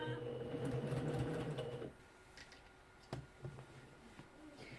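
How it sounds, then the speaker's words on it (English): A sewing machine runs steadily as it stitches a shirt seam a needle width from the edge, loud and continuous for about two seconds before stopping abruptly, followed by quiet room sounds and a few soft clicks. "So now we're going to stitch this down at a needle width away."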